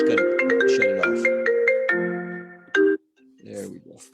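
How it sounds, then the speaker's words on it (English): A mobile phone rings with a bright melodic tone, a quick run of notes that fades, and then a voice speaks briefly. "My phone's ringing again."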